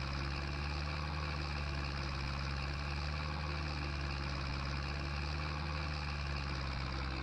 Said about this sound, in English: This tractor is so slow.